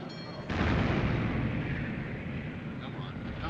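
Heavy warship turret guns fire in a World War II naval battle, a loud booming blast that rolls into a long, dense rumble lasting several seconds, with a faint voice underneath.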